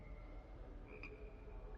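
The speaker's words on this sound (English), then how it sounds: "Frogs?" Frogs croaking in the Hogwarts Legacy game world, a faint low croak rising once over a soft steady ambient bed.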